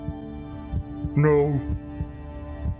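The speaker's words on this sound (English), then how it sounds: "Slowed heartbeats." Slow, heavy heartbeats in a TV vampire drama episode thud at a steady, unhurried pace, while a person's sharp, shocked exclamation rises briefly over the beats.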